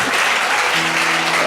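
A crowd claps and cheers in praise of Jesus at a church gathering, a dense, loud, continuous wash of applause with a faint tone rising beneath it.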